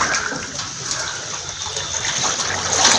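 Floodwater rushes and gushes steadily through a flooded police barracks in a Bihar flood, with a loud, continuous watery wash and no voices.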